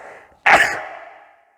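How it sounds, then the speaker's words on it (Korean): A single sharp sneeze bursts out after a stretch of quiet breathing, close and loud, then trails off into a fading exhale; a person indoors, with no talking around it. "에어컨 많이 쐬지 마세요. 네, 이렇게 재채기 하게 됩니다."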